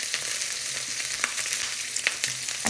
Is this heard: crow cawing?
no